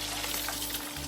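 A sandwich sizzles steadily in a hot pan, a dense, continuous frying hiss with no talk.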